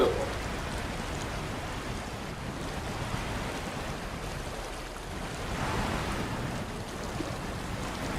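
Water rushing around a truck in the game SnowRunner, a steady loud wash of broadband noise with a slight surge partway through.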